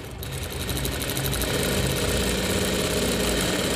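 Sewing machine running steadily while stitching blouse fabric, a continuous rapid mechanical whir with fast rhythmic needle ticking, loud and close, no talking.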